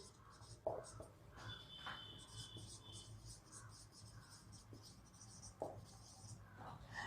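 A pen scratches on paper in a maths lesson, with quiet, steady scribbling strokes and occasional louder taps running through the whole stretch under faint background noise.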